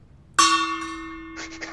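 A single gong struck once for a super chat, a sudden loud metallic crash with a long, steady ringing tone that slowly fades, with a faint rattle near the end.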